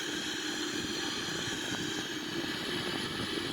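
A Boeing 777-300ER climbs out on takeoff in a flight simulator, its engine roar a loud, steady, continuous drone with no talk.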